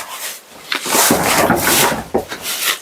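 A door swinging open with a drawn-out wooden rubbing scrape, close and fairly loud, rising and falling over a few seconds with no voices.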